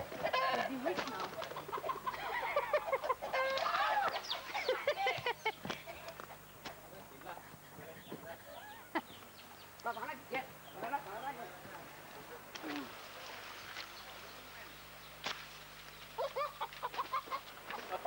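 Chickens clucking and calling near and far on a farm in Thailand, repeated short squawks mixed with scuffling and people talking over them.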